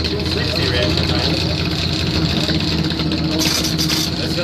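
A front-engine Junior Dragster racing down a drag strip at a points event final, a loud, steady engine drone filling the whole stretch under announcer commentary.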